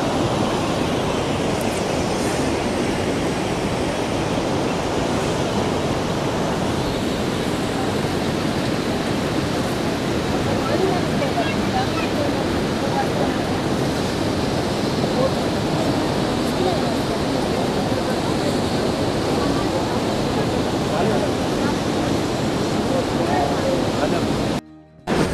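The Saraswati river at Mana village in the Himalayas rushes past in a steady, loud roar of turbulent water that runs unbroken from start to finish.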